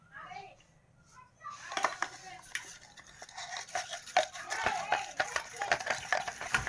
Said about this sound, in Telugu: దీన్ని మనం ఇప్పుడు మిక్స్ చేసుకుందాం.